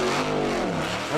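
A Formula Offroad race car named Móri, driven by Jón Gísli Bennisson, revs hard at an off-road track at Svinavatn, a loud, close, continuous engine roar with shifting pitch throughout the brief burst.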